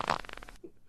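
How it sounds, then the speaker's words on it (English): A toilet-bowl fart sound effect plays, a short buzzing, sputtering blat that stops abruptly, followed by a faint low gurgle. "That's the toilet bowl fart right there."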